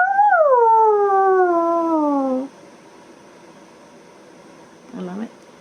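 A person imitates a wolf howling at the moon with one long, sustained, slowly falling howl lasting about two seconds, loud and close, then quiet with a short muffled sound near the end.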